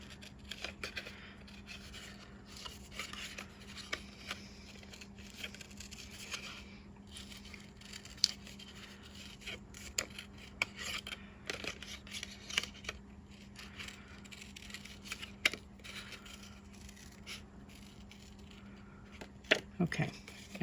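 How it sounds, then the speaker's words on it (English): Scissors snip along paper mountain shapes in a craft project, giving small irregular clips and rustles spread throughout, fairly close and quiet beneath a steady low hum. "I'm just cutting right along my mountains here on this lower portion."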